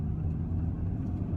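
Steady low rumble of a taxi driving close behind in traffic, a continuous near engine and road drone with no talk.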